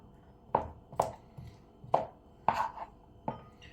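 A kitchen knife chopping endive on a cutting board, about six distinct firm thunks at an uneven pace, close and clear with no talking.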